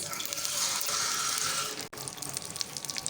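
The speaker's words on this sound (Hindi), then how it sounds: "1 कप हम इसके अंदर पानी ऐड करने लगे हैं" Water poured into sugar in a pan while making zarda, a steady splashing pour with a hissing rush that cuts off abruptly, then softer bubbling and trickling, close up and without speech.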